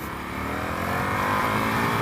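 A 2019 Indian FTR 1200 motorcycle held in first gear at speed, its engine a loud, steady droning roar with dense harmonics and rising pitch, close to the rider with wind noise and no talk.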